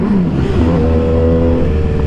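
A motorcycle engine revs hard and loud throughout, its steady harmonic drone rising and falling slightly, close to the listener with no talk over it.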